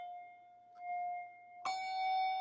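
A handbell rung with the left hand sounds out as a sustained clear tone, with a soft touch partway through, then a brighter strike rings on as a fresh, full, shimmering chord in a quiet room.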